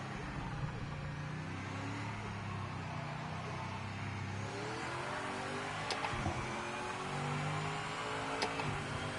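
A 1980s–90s GT race car in Project Motor Racing drones steadily under engine load, its pitch sweeping up and down through gear changes, with faint ticks and a brief speech-like murmur in the mix.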